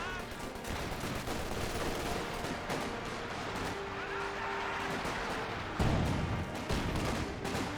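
Dense, continuous gunfire and explosions from a Company of Heroes 2 WWII battle, with overlapping rifle and machine-gun bursts at steady loudness and a heavier thump near the end, all without any talk.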